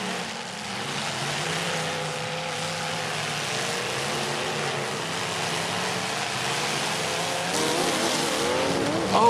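Pro Lite cars in a demolition derby heat roar continuously with loud engine noise and tire scrubbing, a dense, heavy din throughout that swells slightly near the end.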